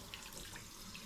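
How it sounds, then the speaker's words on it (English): Steady running water from a tap splashing over cider bottles being rinsed in a sink, a continuous close hiss with small splashes. "I'm just going to give my bottles a shower"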